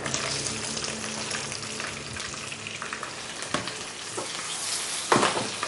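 Mustard seeds and curry leaves splutter in oil in a frying pan, a steady crackling sizzle with a few sharper pops near the end.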